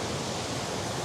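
A flowing river rushes in a steady, dense broadband wash, loud and close with no other sounds over it.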